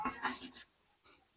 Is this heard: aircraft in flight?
no